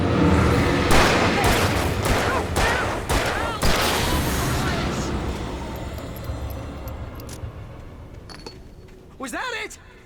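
Rapid bursts of gunfire fill a tense fight in Alan Wake Remastered, a loud volley of repeated shots over the first five seconds before thinning out, with a shout and an agitated voice near the end.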